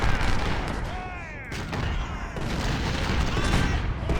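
Enemy gun batteries firing in a war strategy video game, a continuous roar of overlapping shots and booms that dips briefly, then swells again, with no talking.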